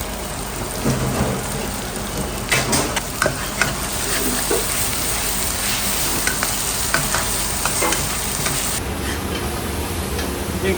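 Onion and chili sautéing in a pan while being stirred, a loud, dense hiss of frying with scraping and clattering stirring strokes throughout, no voices.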